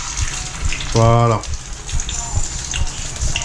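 Tuna-filled brick pastries frying in hot oil, a steady sizzling crackle with scattered pops running throughout, while a person speaks briefly and a short tonal buzz briefly cuts in.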